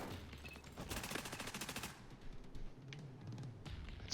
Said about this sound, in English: Sniper in the background, he's tearing me up.